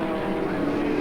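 Race car engines at Archerfield speedway, a loud, near, steady droning roar of motors running hard down the back straight, with no break across the short stretch.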